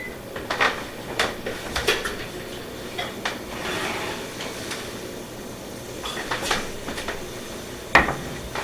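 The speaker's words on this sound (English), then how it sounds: "Let's go ahead and take these out of the oven" Metal trays of oyster appetizers are pulled from a kitchen oven, giving scattered clinks and scrapes of metal on racks, with a sharper clank near the end and no talking.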